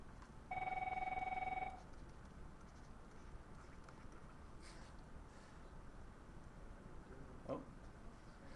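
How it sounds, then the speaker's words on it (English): A single office telephone ring, a steady electronic tone lasting about a second, heard at a distance in a quiet room with faint background hiss. "My office phone does that all the time too. It'll ring once and then."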